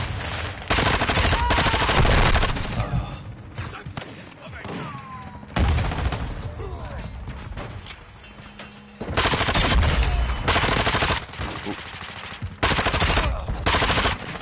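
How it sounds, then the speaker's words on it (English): Video game gunfire from enemies: repeated bursts of loud automatic fire in several long volleys, with short quieter gaps between them and faint game sounds underneath. "Taking enemy fire."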